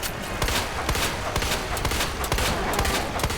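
Dense, continuous automatic gunfire from a boss fight against Birkin in the video game Resident Evil 2, loud and sustained with rapid overlapping shots throughout.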